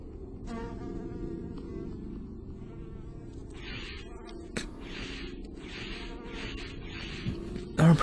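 Buzzing hive creatures drone steadily in a Castlevania fan game, The Lecarde Chronicles, with pulsing insect-like whirs repeating over game music and a thud near the end.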